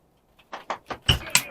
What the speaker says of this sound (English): Actually had to close the door